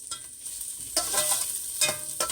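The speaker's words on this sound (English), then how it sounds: "Those peppers and onions are sauteing." Peppers and onions sauteing in a pan give a steady close sizzle, broken by a few sharp scraping stirs of the utensil.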